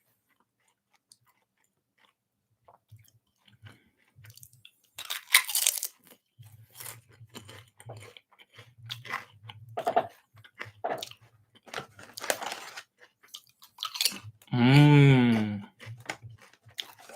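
Crunchy potato chips being bitten and chewed up close in a series of sharp crunches, with soft murmured hums of enjoyment between bites and a longer hum near the end.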